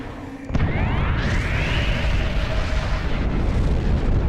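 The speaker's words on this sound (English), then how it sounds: "It destroyed an entire planet." A planet blows apart in a huge, sustained explosion: a sudden booming onset that swells into a broad, roaring rumble with a sweeping whoosh, loud and continuous.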